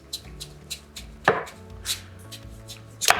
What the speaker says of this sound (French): je vais tout couper mes citrouilles tout de suite.